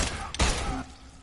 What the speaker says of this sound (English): he does the low gunshot